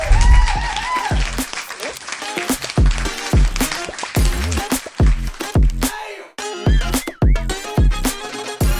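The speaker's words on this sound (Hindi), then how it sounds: "round of applause, ladies and gentlemen" Audience applause at a live cooking competition grand finale in Delhi, sustained clapping from a large crowd welcoming a chef to the stage, loud and continuous with scattered cheers throughout.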